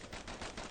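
Rapid volleys of dueling pistols firing in the video game Bastion, a dense, continuous burst of loud overlapping gunshots with no pauses over less than a second.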